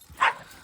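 A single short, high-pitched puppy whimper or yip, close and alone, from a young giant-breed puppy outdoors.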